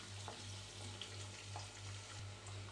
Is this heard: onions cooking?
yes